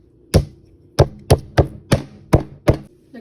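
Seven sharp, heavy thuds in a steady rhythm as pork chops are pounded with a tenderizer before marinating, close and loud with short decays and no talk.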